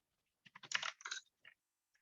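Typing on a computer keyboard while building an Alteryx analytic app, a quick irregular flurry of close, crisp key clicks clustered in a short burst, then a few scattered taps in otherwise quiet surroundings.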